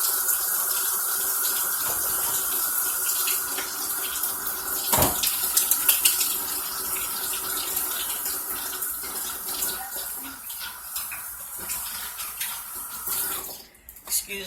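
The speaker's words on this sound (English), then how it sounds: "I'm gonna wash my hands real quick, then we're gonna get started." Tap water runs steadily into a sink while hands are washed, a close, even splash with brief knocks and a dip in flow near the end.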